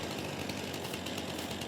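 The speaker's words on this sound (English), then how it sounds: "And I got my Stihl chainsaw." A Stihl chainsaw runs in Farming Simulator 22, a harsh, continuous buzzing engine roar held at steady full throttle, loud and close with no pauses.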